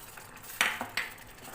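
A spoon stirs tamarind dissolved in water in a bowl, giving two or three quick clinks and scrapes against a quiet background, with no talking.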